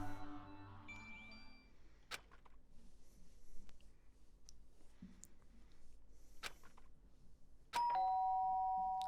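A doorbell-style ding-dong chime from the Danganronpa video game, a bright two-tone ring near the end of the clip standing out over quiet game background sounds and a few sharp clicks.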